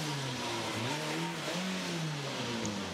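A Peugeot 207 rally car engine revs on the Le Moulinon–Entraigues special stage of the 2010 Monte Carlo Rally, rising and falling through gear changes, loud and close.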